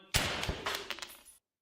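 Shotgun axe firing an air burst in VRChat, a sharp blast followed by a rapid cluster of crackling bursts that fade out within about a second, close and punchy.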